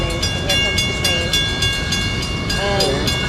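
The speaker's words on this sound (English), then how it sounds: "And here comes the train." A train rolls past near a neighborhood at an outdoor press conference about ethanol, its steady rumble and rail noise filling the scene while a horn-like tone rises briefly near the end.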